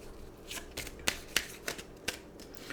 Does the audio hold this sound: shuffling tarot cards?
yes